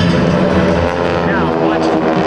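GEICO Skytypers airshow planes make a photo pass at the 2009 Blue Angels Homecoming Airshow, a steady broad engine roar that stays loud through the whole moment, with an announcer talking over it.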